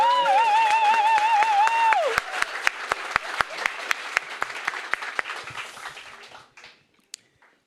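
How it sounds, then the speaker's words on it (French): A church congregation applauds the pastor's parents with sustained clapping that starts under a sung or spoken tone, then thins into scattered separate claps before fading out. "On peut les acclamer."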